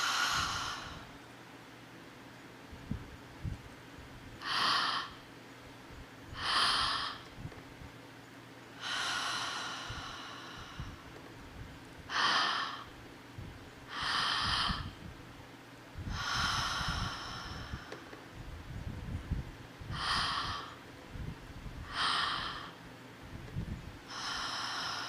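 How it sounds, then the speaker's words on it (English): Open-mouth breathwork practice with deep breaths drawn into the belly and chest and released out through the mouth. The breaths are loud, rhythmic and airy, each one a clear rush of air with short pauses between, and no one talks. "Open mouth, breathing into the belly,"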